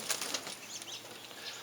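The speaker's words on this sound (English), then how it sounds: "Trying to show you what a family of pigeons look like." Pigeons in a family loft, with brief wing flaps and faint scattered rustling and soft calls against a quiet background.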